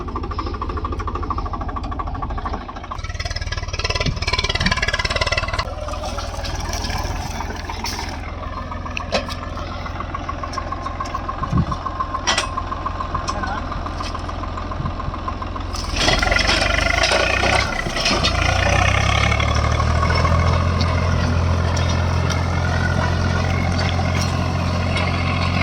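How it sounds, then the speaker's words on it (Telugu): A tractor fitted with a cotton stalk cutting blade, its diesel engine rumbling steadily nearby and rising to a louder, deeper idle partway through, with clanks and knocks over it. "బండి అయితే స్టార్ట్ చేస్తున్నాడు."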